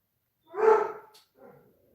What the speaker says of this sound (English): I've got I've got a basset hound howling right now.